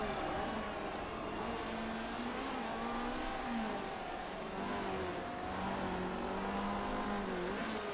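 Race cars in the Motorsport Manager racing game on the Black Sea circuit, a steady, dense roar of engines revving and shifting pitch throughout, with no break and no voices.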